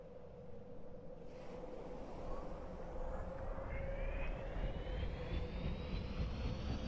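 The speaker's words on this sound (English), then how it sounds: "let's just start the engines" Aircraft engines start up in the Roblox game Aeronautica, a steady drone that grows louder with a rising whine climbing in pitch over several seconds.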